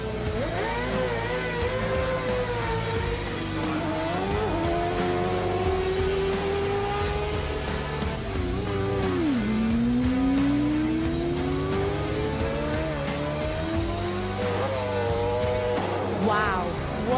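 TT racing sidecars scream through and past the pit lane, engines revving up and down with rising and falling pitch sweeps, loud and continuous, with a voice talking over the racket.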